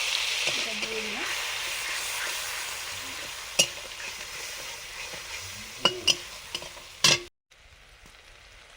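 Ginger, cumin, chili and turmeric paste mixed with water sizzles in a pan with fried shrimp, a constant close hiss broken by a few sharp utensil clinks before cutting out abruptly.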